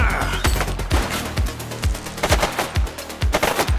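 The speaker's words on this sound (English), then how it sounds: "Shots fired!" Gunfire in The Precinct, a police video game: about nine loud, evenly spaced shots ring out in a steady rhythm, each ending in a short boom, with no voices.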